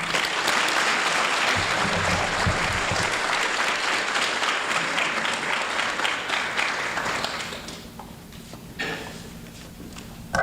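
An audience at a community college student awards ceremony applauds for award recipient Luke, dense sustained clapping that fades out near the end, leaving room tone and a few stray claps.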